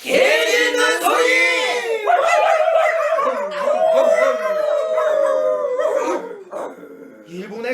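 A performer's voice imitates a dog, with drawn-out howling yelps and barks in a Korean pansori musical, sung loudly and continuously with strong tonal harmonics over several seconds.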